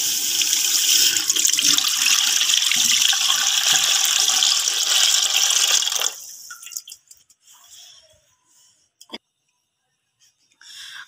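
About 2 kg of loose full-fat milk poured into a pot makes a loud, steady splashing rush for several seconds, then cuts off abruptly, leaving faint drips and small clinks in near silence.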